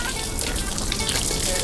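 Water splashes and gushes while a mouth is rinsed during wudu ablution at a mosque tap, a loud, close, continuous hiss of running water.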